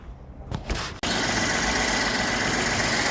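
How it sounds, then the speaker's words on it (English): A 2014 Mercedes-Benz ML350 engine, just repaired for a misfire, settles into a loud, steady idle after a brief rustle and a short dip, running evenly and close with no talking. "The engine is running."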